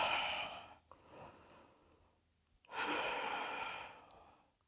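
Deep breaths during a yoga session come close and clear, a long airy exhale, a softer breath, a pause, then another long drawn-out exhale.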